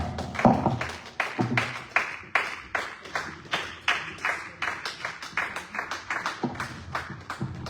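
A church congregation claps rhythmically to acclaim God, a steady run of loud, close, even hand claps with a faint voice in the background.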